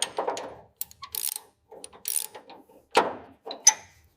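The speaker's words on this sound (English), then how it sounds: "Applying the wrench to the terminal bolt." Metal wrench ratcheting on a terminal bolt during restoration of a rusted silver 2013 Mercedes F1 W04 model, a series of close, crisp clicking bursts with short pauses between strokes, no talking.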